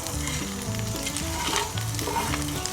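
Corned beef hash and eggs fry in a pan over an outdoor campfire, giving a steady, close, crackling sizzle with occasional stirring and no voices.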